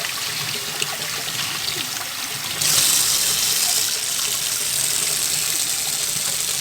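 Running water rinsing germinated seeds in a tub, a continuous splashing trickle that grows brighter and stronger partway through and then holds steady, with no voices.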